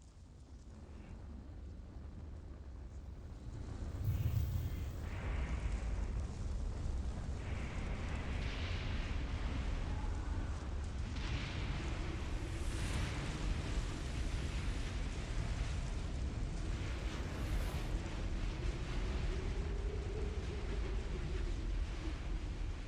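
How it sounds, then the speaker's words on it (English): The burning Erdtree in Elden Ring gives off a steady, heavy roar like a vast blaze or rushing wind, swelling a few seconds in and then holding loud and unbroken throughout, with no talking. "The Erd tree is officially on fire."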